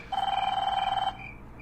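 A telephone rings in the Five Nights with Froggy horror game, set in Baba Yaga's hut: one steady electronic ring lasting about a second, clear and alone, then cutting off.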